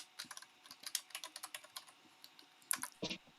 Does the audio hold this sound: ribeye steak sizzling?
no